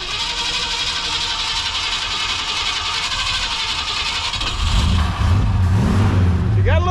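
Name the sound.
1964 Ford Fairlane engine running and revving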